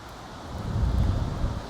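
Steady wind buffeting the microphone at a float-fishing spot, a low continuous rumble that swells slightly midway with no voices.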